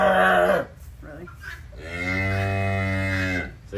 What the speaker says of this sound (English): She hears another cow. Woo! She's loud.